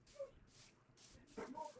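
Faint dogs in the background give a few short yips and whimpering barks, spaced out and distant.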